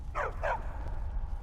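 A husky in the Skyrim video game gives two quick barks close by, followed by a low rumbling game background.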